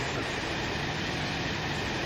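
Steady, dense rumble and hiss inside a first class carriage of a moving HST train, continuous and loud with no distinct clatter or voices.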